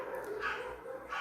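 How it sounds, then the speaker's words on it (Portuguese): Dogs barking out in a street, a couple of faint, distant barks and yips heard indoors at low level, with no talking over them. "os cachorros aqui da rua resolveram começar a latir"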